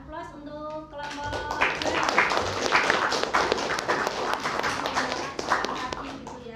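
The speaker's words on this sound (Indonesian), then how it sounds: "kita berikan aplaus untuk kelompok" A classroom of students claps for a presenting group, a dense, fairly close burst of applause that swells after a brief voice and continues steadily to the end with scattered louder claps.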